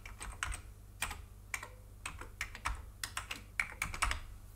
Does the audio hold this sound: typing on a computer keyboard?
yes